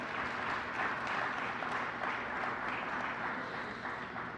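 Steady applause from a crowd at an electric vehicle investment announcement, greeting Lieutenant Governor Sheila Oliver, a continuous moderate clatter of clapping with no voices over it.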